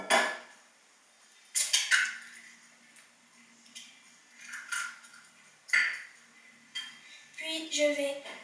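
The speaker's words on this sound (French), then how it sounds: "je vais commencer par casser l'œuf" An egg is cracked against the rim of a bowl while making a soft apple cake, giving several short, close taps and clinks with brief bowl and dish clatter between quiet pauses.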